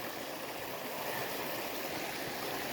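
A steady, close rush of stream water pours at the Lil Falls swimming hole along the Magalia Greenbelt trail, an even hissing flow heard alone.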